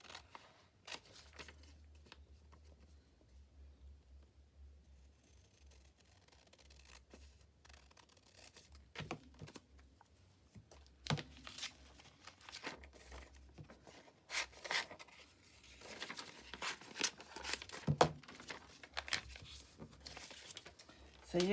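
Scissors snipping through paper cut from a stamp magazine, small crisp cuts and rustling of the page, quiet and close, growing busier toward the end with a person talking at times.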